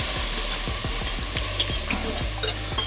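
Vegetables frying in a roux for New Orleans style shrimp creole, stirred with steady scraping strokes through a continuous close sizzle, no voices.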